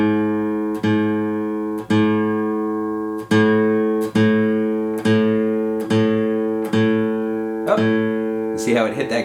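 An acoustic guitar's A string, starting flat at G sharp, is plucked over and over while the tuning peg is turned, so the pitch rises in steps. Each note rings close and decays before the next pluck, with a short fumble of strings at the end.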